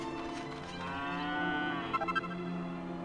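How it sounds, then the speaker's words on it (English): A cow moos once in the Dragon Quest VIII video game, a drawn-out tonal low over soft background game music, fairly quiet and alone without talk. "And a cow."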